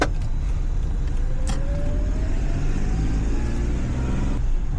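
A car driving on the road in steady traffic, continuous low engine and tyre rumble close by, with a rising whine sweeping through the middle and a brief sharp burst near the start.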